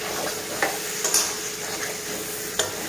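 Prawns and pointed gourd being sautéed in a pan, with a steady sizzle and fry throughout, punctuated by a few sharp scrapes and clinks of a spatula stirring.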